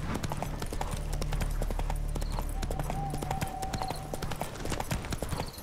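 A horse gallops in The Witcher 3, its hooves making a fast, steady clip-clop rhythm close by over continuous game sound, with a brief higher tone partway through.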